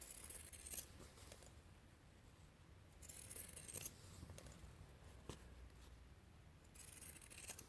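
Scissors cut through fabric while a pillowcase is being made, with quiet, close snips and slicing rasps arriving in a few short bursts separated by pauses.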